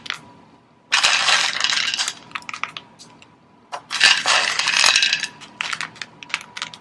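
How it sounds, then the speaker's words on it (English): Dark and semi-sweet chocolate chips scatter onto banana bread batter in two rattling, clattering bursts, each lasting a second or more, with small scattered ticks between them, close and fairly loud. "just top it off with some chocolate chips"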